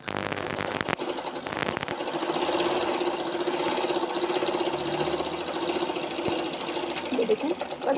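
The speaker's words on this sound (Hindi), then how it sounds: "अब हम मोटर को लगा के चेक करते हैं।" A sewing machine motor switched on after fitting a new belt, running with a steady buzzing, rattling hum that holds level for several seconds after a few brief knocks at the start.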